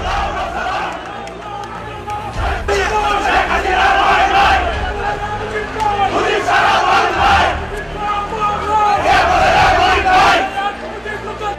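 Lawyers on a Bangladeshi court premises loudly chant the 'Joy Bangla' slogan as a crowd, voices rising and falling in repeated shouted waves over dense, steady crowd noise.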